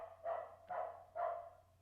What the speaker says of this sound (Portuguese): Estão ouvindo o cachorro